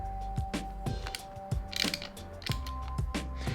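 Repeated ratcheting clicks come from tightening a MotoGadget bar end mirror onto a motorcycle handlebar, a series of close, crisp mechanical ticks in short bursts with steady tonal hum underneath.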